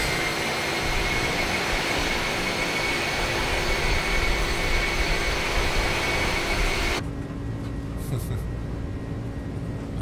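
iniBuilds A300-600R jet engines spooling in the MSFS flight simulator, a loud steady broadband roar with whining tones that holds for seven seconds, then drops to a muffled, quieter cockpit-interior hum.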